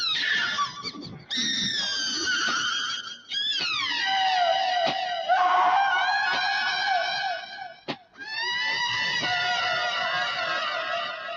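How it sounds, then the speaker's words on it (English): A woman's long, piercing scream from the horror film Night of the Living Dead rises and wails in several sustained, quavering bursts with brief breaks between, loud and shrill with no talk. "that scream is so unsettling"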